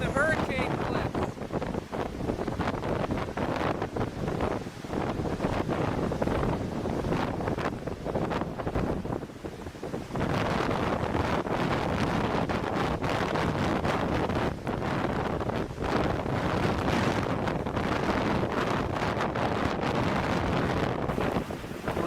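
Strong wind roars across the microphone during a blizzard, a dense, continuous rushing gust that stays loud throughout with brief dips, close and buffeting, with no other clear sounds above it.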